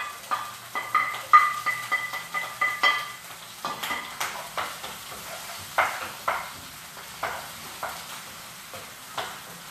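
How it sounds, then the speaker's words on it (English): Onion frying in a pan sizzles softly while a utensil stirs and scrapes it in quick repeated strokes, with occasional clinks of metal against the pan. "on the other pan I'm going to put in my onion."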